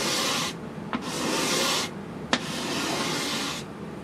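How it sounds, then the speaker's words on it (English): A hand scraper drags excess grain filler off a wood surface in long rasping strokes, three broad passes separated by brief pauses and small clicks as the blade lifts. "I'm just going to scrape off that excess."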